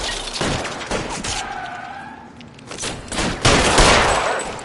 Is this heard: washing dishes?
no